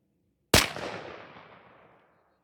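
A shotgun with a full choke fires one Winchester Defender 2-3/4 inch 00 buckshot shell outdoors, a single sharp loud blast after a moment of quiet, then a long rolling echo fading over about a second and a half.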